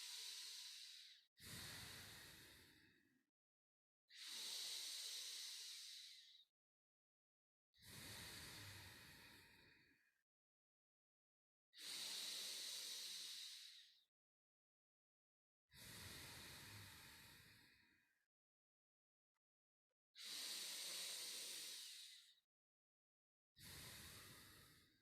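Slow, deep breaths drawn into the belly during qigong practice, each long airy inhale or exhale lasting about two seconds and separated by silent pauses, close and steady in an even rhythm.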